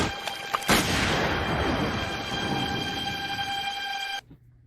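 A tank's net launcher fires in the Robocop TV series: a sharp, loud boom followed by a sustained rushing roar with steady high whine, ending abruptly after about four seconds.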